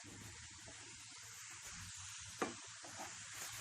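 Chopped capsicum and tomato fry in a pan over a high flame with a soft, steady sizzle. A single faint clink of stirring sounds midway.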